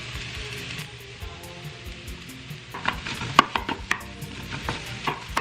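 Salmon sizzles and spatters in a hot pan of fried rice, with a steady frying hiss, scraping stirs and sharp pops and clacks from the utensil against the pan, close up and with no voices.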